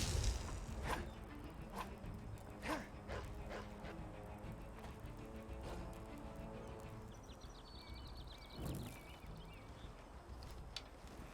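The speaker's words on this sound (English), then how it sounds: "At least these dogs are actually dangerous." Dogs in the video game Enderal: Forgotten Stories, a series of sharp barks and yips scattered through a busy game soundscape, with a brief whining cry and ambient bird-like chirps in the background.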